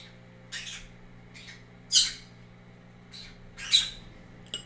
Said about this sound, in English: Baby birds. My sweet baby birds.